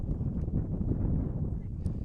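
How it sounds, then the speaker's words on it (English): Gusts of wind buffet an outdoor microphone at a boys' high school soccer match, a continuous loud low rumble and roar filling the whole stretch without a break. "As another gust of wind comes in"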